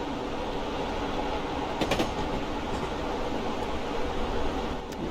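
Steady rumble of a rail car rolling along the track in a train simulator game on the North Pole Railway, a luxurious passenger train, with a brief metallic clatter near the start and a continuous even roar throughout.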